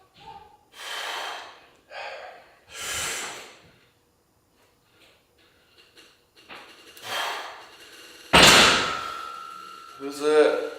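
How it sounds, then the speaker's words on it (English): A child fumbling at a household door makes scattered bumps and rattles mixed with breathy snorts and gasps, ending in a loud thump and clatter near the end. "What are you doing at the door, honey? You're making a lot of noise."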